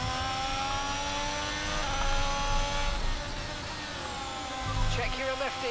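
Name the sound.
Haas F1 car engine in F1 22 video game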